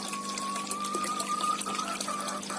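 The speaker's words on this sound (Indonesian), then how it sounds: "Dan ini semuanya saya kasih saya kasih gelembung ya." Steady bubbling and water churn from an aerator in a goldfish pond, a continuous close wash of noise with a faint steady hum running underneath and no talking.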